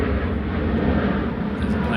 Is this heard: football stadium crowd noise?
no